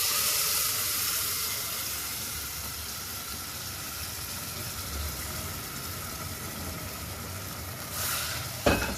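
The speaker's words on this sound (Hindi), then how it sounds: "अब मैं दाल और कद्दू इसके ऊपर डालने लगी हूँ।" Lentils and pumpkin hit hot, fried masala in a pan for Punjabi dal kaddu, setting off a loud, steady sizzle and hiss that fades slightly, then a stir and clatter near the end.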